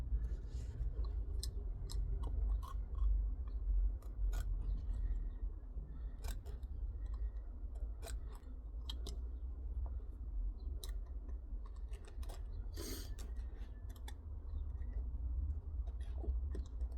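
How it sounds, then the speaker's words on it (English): A knife scrapes and cuts old adhesive away from the felt sole of a wading boot, sounding as sparse, sharp ticks and snips close by over a steady low rumble of background noise. "stick the knife down in here and just work the existing adhesive and try and just slowly cut it away"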